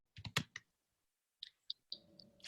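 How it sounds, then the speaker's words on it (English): Scattered clicks and taps from a computer keyboard come through in two short bursts separated by a quiet gap, faint and thin, followed by a low hum. "If one of the lecturers are typing, if you can just, while you're typing, if you wouldn't mind just muting, because we can hear the tick, tick, tick, tick, tick."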